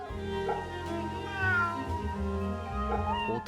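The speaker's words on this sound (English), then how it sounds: "Walking around, petting cats" A cat meows as it is petted in the video game Fate/Samurai Remnant, with a drawn-out mew rising over steady background music, moderately loud and close.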